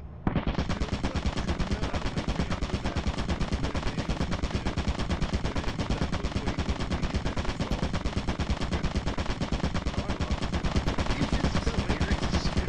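Rapid automatic gunfire from the video game Lethal Company rattles on continuously for about twelve seconds, dense and loud with no pauses.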